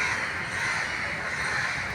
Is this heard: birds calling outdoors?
yes